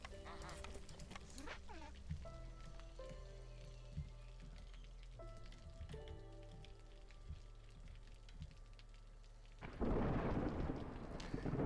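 Storm in the game Against the Storm, a low rumbling roll under a droning musical bed that swells into a loud rush of rain and thunder near the end, with a voice talking over parts.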